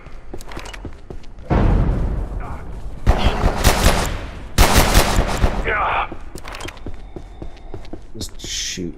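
Gunfire in the survival game Abiotic Factor: rapid automatic bursts, loud and close, in two long volleys with scattered single shots and clanks around them.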